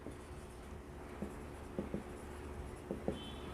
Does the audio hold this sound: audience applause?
no